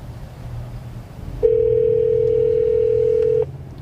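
A steady telephone dial tone holds for about two seconds and then cuts off, heard alone over faint background hum.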